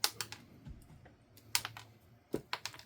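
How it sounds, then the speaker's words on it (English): Dried dandelion leaves and roots are snipped into small pieces, giving sharp, crisp clicks in irregular bursts, close and fairly quiet, with short pauses between cuts. "Just going to cut these in small pieces."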